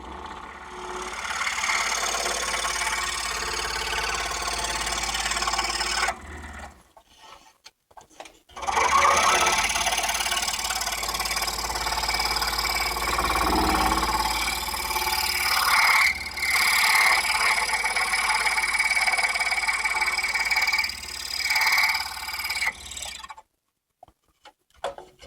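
A vehicle pushing a grading blade around a parking area gives off a steady, close mechanical whir, cutting out briefly twice before running on evenly.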